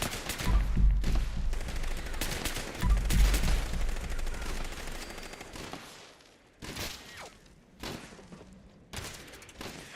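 Gunfire in Fallout 76 arrives as bursts of rapid shots and heavy thumps, loud at first, then thinning into scattered separate reports against quieter background noise.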